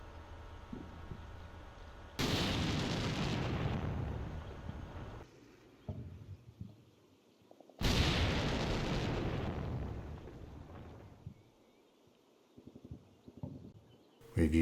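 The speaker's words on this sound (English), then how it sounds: "Russian missiles just seem to keep coming." Missile explosions and artillery fire in the wargame Combat Mission Black Sea, Russian missiles striking Ukrainian positions: two loud, sustained roaring blasts a few seconds apart, each fading into rumble, with scattered smaller bursts between and a fresh impact at the end.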